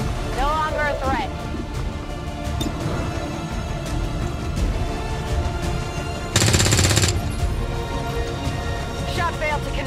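Automatic weapon fire from the video game XCOM 2, sustained bursts of shots under game music and voiced callouts, with a louder dense volley partway through.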